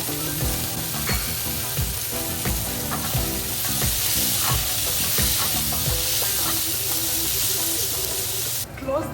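Garlic and olive oil sizzle steadily in a pan with purple asparagus, a constant frying hiss broken by regular stirring and scraping knocks. The sound stays close and fairly loud throughout, with no voices.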